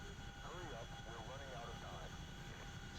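A Chinook helicopter flying in DCS World, carrying an underslung load: a steady, faint engine and rotor drone runs throughout, with a voice talking over it.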